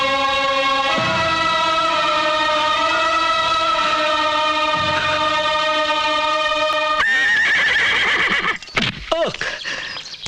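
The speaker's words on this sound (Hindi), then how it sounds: "हाँ है, मेरा घोड़ा जो मुझे जरूर पहचानेगा।" A horse named Chetak neighs in a long, loud, sustained whinny with shaky harmonic tones, followed by snorts and shorter breathy calls near the end, with no talk.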